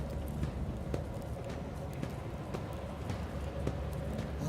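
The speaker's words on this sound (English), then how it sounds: "here come the footsteps" In the video game Rogue Trader, footsteps approach as a steady series of light, evenly paced clicking steps under a continuous low droning background.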